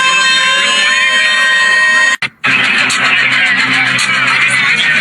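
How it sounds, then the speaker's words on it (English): A loud, steady, eerie electronic tone with many layered harmonic lines droning at an event, cutting out briefly, then returning with a harsher buzzing texture. "Here is the frequency that we're talking about."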